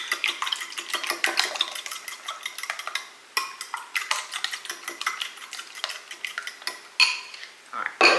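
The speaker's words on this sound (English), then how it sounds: "Just going to mix those up lightly." Four room-temperature eggs lightly mixed in a bowl, a steady run of quick clinking whisk or fork taps against the dish, close and continuous with brief pauses, no talking.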